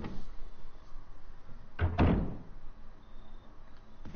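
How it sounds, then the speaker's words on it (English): A door opens in the Resident Evil game, a single loud creak and thud near the middle of an otherwise quiet stretch, then a brief soft knock at the end. "At least this door opens."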